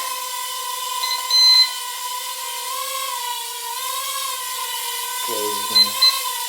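A toy nano quadcopter hovers with a steady high-pitched motor whine that wavers slightly as throttle shifts, close and continuous while someone talks briefly near the end.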